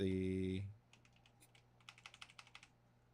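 Fingers type on a computer keyboard in a quick run of light, close clicks, right after a sustained synth tone cuts off, with a low hum underneath.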